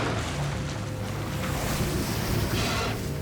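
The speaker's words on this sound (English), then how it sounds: "The noise of ship engines traveled thousands of miles underwater." Large modern ship engines heard underwater, a dense low rumbling drone with washing, surging noise layered over it, continuous and enveloping throughout.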